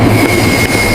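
A train pulling into a station, a loud steady rumble of wheels and engine with a faint high squeal running through it, continuous and close with no voices.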